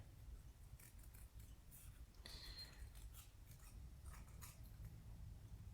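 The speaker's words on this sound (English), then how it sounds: "So we're fussy cutting." Scissors snip paper in short, faint, close crisp cuts, fussy cutting around a printed image for a Stampin' Up Christmas card, with quiet room noise and no talking.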